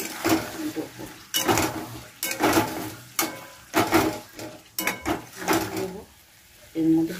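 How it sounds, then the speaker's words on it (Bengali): Sour yogurt is whisked briskly in a bowl for a borar torkari curry, giving repeated loud scraping, clattering strokes in uneven bursts with short pauses between them. "এবার টক দইটা ফেটিয়ে দেবো।"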